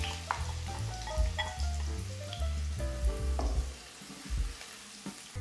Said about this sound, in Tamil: இப்போ வெங்காயம் வதங்கிட்டுருக்கு.